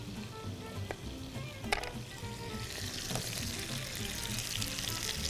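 Taro (arbi) pieces frying in oil for an arvi gosht curry, a steady close sizzle that swells and brightens toward the end, with a few soft clinks along the way.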